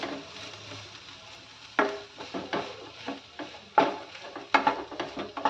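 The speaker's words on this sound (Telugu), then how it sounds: "ఈ విధంగా ఈ కారం కూడా యాడ్ చేసి చక్కగా బీన్స్ అంతటికి కలిసేలాగా బాగా మిక్స్ చేసుకోవాలి ఒకసారి." Fried french beans being stirred with chili powder in a pan: scattered scraping and clattering strokes of a spoon against the pan over a faint sizzle, with sharper knocks in the second half.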